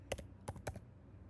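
Three crisp, close mouse clicks land in quick succession, two near together and one slightly apart, against a quiet computer-room background with no talking.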